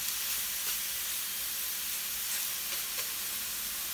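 Chicken breasts sear in a dry pan with no oil, giving a steady, dense sizzling hiss that stays even and continuous throughout, with no voices.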